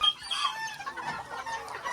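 Several Mini Garnisé bantam chickens cluck and chatter in their pens, a busy overlapping flock murmur with scattered higher calls, steady and moderately close with no talking.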